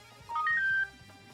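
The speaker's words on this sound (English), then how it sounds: "Oh, that's my phone, sorry." A phone ringtone plays as a short rising electronic chime that settles on one sustained bright tone, moderately loud over faint background sound indoors.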